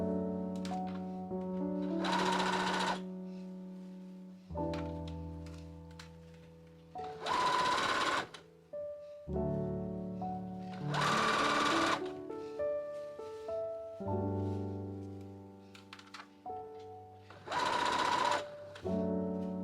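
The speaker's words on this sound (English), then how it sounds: "Base stitch around the armhole to secure facing to halter fabric." A sewing machine stitches around the armhole of a halter dress, running in four distinct loud bursts separated by pauses, with background music playing throughout.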